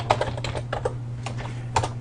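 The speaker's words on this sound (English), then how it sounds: "I would be typing in meditation here." Computer keyboard typing into a Microsoft Excel sheet, a close, uneven run of quick key clicks with a few louder taps, over a low steady hum and no talking.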